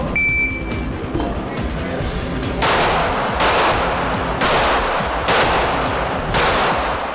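Backup pistol shots in a timed string at a backup-gun shooting competition: a series of five or six sharp reports, roughly evenly spaced, loud and fairly close over outdoor background noise.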